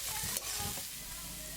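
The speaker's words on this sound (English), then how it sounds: "you can add your garlic and your ginger, finely chopped, and fry that off for a little while" Finely chopped garlic and ginger fry in a pan with a steady, close sizzle and bright hiss, broken by a few quick stirring scrapes.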